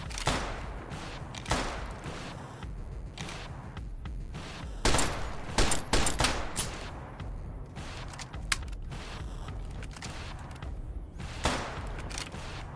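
Gunfire in Fallout New Vegas comes as repeated sharp shots in bursts and single cracks, loud and close, with rapid clusters in the middle and spaced shots throughout.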